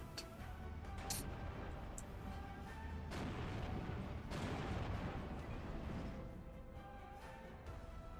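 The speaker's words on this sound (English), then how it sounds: "We're firing artillery." Artillery fire in the video game Steel Division II, with rumbling booms and scattered distant blasts rolling over one another at a fairly low level, without any speech.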